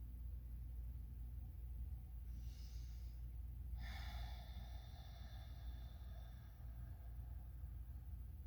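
A slow, deliberate inhale through the nose during a meditation breathing exercise rises as a soft airy rush over steady low background rumble, breathy and close, with no speech.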